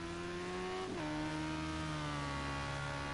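A Radical SR3 race car in a racing video game powers out of the Bus Stop chicane at Spa, its engine rising in pitch, dipping briefly at a gear change, then climbing again as a loud, steady, close drone.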